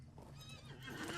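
A horse in the Lord of the Rings Online video game gives a short, faint whinny, rising and wavering over light hoof clatter for about a second, with no talking.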